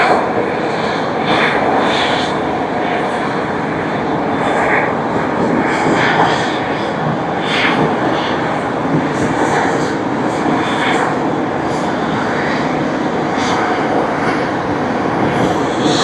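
Loud, steady roar of an airliner engine at Tokyo Haneda Airport after a flight from Honolulu, a continuous close drone with faint high whine, no talk.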